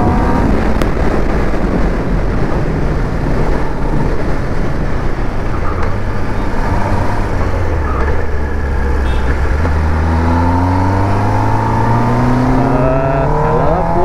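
Kawasaki ZX-10R sportbike engine on a test ride, a steady loud drone with rising and falling rev sweeps and shifting pitch as the bike accelerates, continuous throughout without talk.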